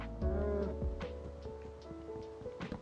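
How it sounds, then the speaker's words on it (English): A cow in the Minecraft game gives a low, drawn-out moo, layered over background game music with soft tones and small clicks. "Don't you moo at me."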